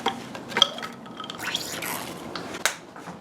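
Liquid sucralose dripping into a drink on a kitchen counter, a few soft separate drips and small clinks spread out over a quiet background, close and faint.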